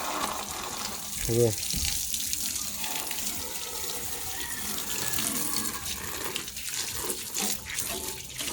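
Water sprays and splashes steadily as children wash a motorcycle, a continuous hiss with a brief sharp burst early on, while someone speaks a word in the background.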